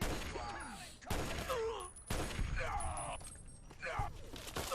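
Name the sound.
gunfire in Fallout: Tale of Two Wastelands, video game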